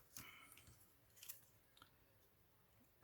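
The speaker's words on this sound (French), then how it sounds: "Je vais couper les petits picots." Scissors snipping small tabs off a handmade 3D scene card made from a paper die-cut set: a few quiet, crisp snips close up over a near-silent room.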